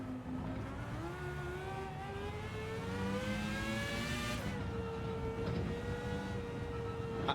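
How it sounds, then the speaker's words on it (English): A race car in Gran Turismo lapping the Nurburgring backwards, its engine a steady high drone that climbs in pitch, drops at a shift and climbs again, loud and close with no voices. "Why are we driving the Nurburgring in reverse?"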